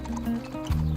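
Horse hooves clip-clop steadily during an equestrian ride through the countryside around Château de Chambord, a close, even rhythm with a faint whinny-like tone and a low rumble underneath.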